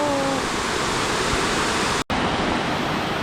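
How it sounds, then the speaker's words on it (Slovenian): The Krupa river on the Vrbas in Bosnia rushing past nearby as a loud, steady broadband roar of water with no break in its flow. "Tole je drugač reka Krupa na Vrbasu."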